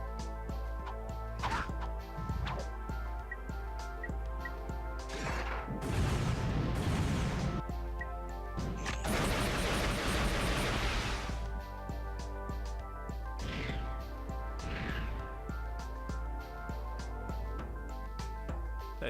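Impacts strike a test dummy in Ratchet & Clank 2, sounding as loud, crashing whacks and bursts set over a steady game background that hums and rings.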